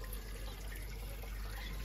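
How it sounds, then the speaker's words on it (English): Water runs steadily through a hose into a homemade hydroponic setup built from a gallon bottle, a continuous soft trickle and hiss with no pauses and no voices. "what I want is not too much water. So it's running through there."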